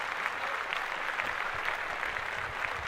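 Studio audience applause during a podcast, a steady wash of clapping held evenly at moderate level throughout.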